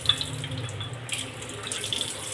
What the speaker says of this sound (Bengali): আর যে এখন জাস্ট আসছে জল, যে আমি খুলে রেখেছি